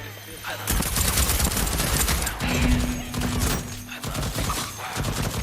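Turret gunfire from the video game Deathloop on PS5: a dense, loud, continuous stream of rapid automatic shots with rattling impacts filling the whole stretch.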